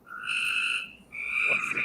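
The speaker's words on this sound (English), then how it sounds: "Those tree frogs, I love them" Tree frogs croak in steady, high trilling calls, two sustained bursts with a short gap between them, fairly close and clear with no voices over them.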